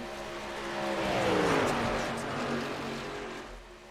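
Race cars in an iRacing sim race drone past with a rising and falling engine whine, one car sweeping by loudly while others hum steadily in the background.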